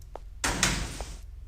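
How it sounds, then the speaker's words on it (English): A door slides open in the video game Enemy Zero, a brief mechanical click followed by a loud, hissing whoosh of about a second, ending in a soft thud. "Door."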